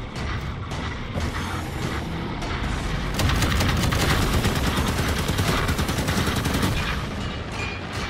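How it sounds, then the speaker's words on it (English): Rockets in Halo 5: Guardians fire in rapid sequence, a dense, loud barrage of overlapping blasts and booms that persists throughout with no talk. "these rockets fire in a little bit of a sequence"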